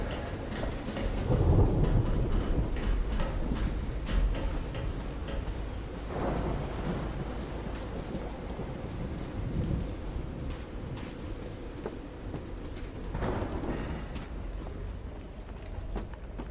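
A thunderstorm in the video game Call of the Sea, with low rolling thunder rumbling under a steady patter of rain, swelling loudly early on and again in several distant-sounding waves.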